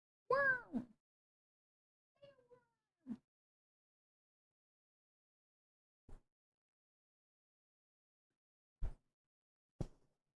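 A gray cat with a white patch gives one clear, drawn-out meow in a quiet room, followed by a few faint short sounds and soft knocks spread over the following seconds.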